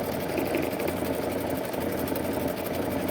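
Baby Lock Anthem sewing machine stitching steadily, a continuous close mechanical whir with a fast rhythmic needle pulse, loud and unbroken throughout.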